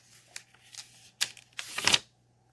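Sheets of paper being creased and folded into a paper airplane, giving close, crisp crinkling rustles in a few short bursts with the loudest near the end and no talking.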